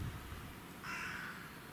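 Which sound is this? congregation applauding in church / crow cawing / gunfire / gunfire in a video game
crow cawing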